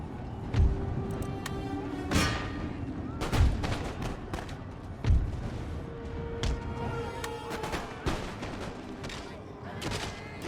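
Musket volleys from the Empire: Total War battle game, with a string of sharp booming shots and crackling scattered fire spread through the scene, some close and heavy, others lighter, over a busy battlefield din.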